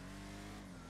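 A car engine in GTA 5 drones steadily under way, a continuous loud hum with a tonal whine and no break over one short second.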